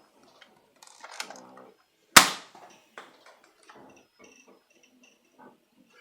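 Foam dart blaster firing half-length darts, a single sharp loud snap of the shot followed by a quick decay, set among quieter clicks and rattles of handling before and after.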